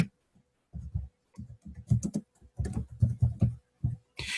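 Close, fairly loud typing on a computer keyboard during a data-entry task, with irregular bursts of key clacks separated by short pauses.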